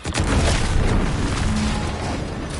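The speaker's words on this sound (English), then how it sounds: "Was that an explosion?" An explosion in the video game The Outer Worlds 2 on PS5 Pro, a loud, sustained rumbling boom that fills the whole moment with no talk over it.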